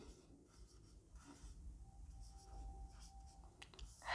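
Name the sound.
pen writing on paper, writing a Hindi leave application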